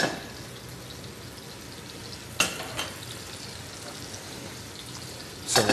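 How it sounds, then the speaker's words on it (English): Shallots and bacon sweating in an oiled pan, a continuous soft sizzle broken by a few sharp clatters of a spoon or pan. "into this pan go those shallots, and I'm going to sweat those down with a little bit of bacon"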